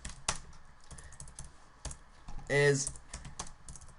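Code being typed on a computer keyboard while building a 2D GUI game in ROBLOX: scattered close key clicks in an uneven rhythm, with a spoken word and a brief louder burst partway through.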